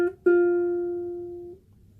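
A single ukulele string, fretted with the first finger as part of an F chord, is plucked twice: a brief first touch, then a clear note that rings steadily for about a second and a half before stopping, with no voices.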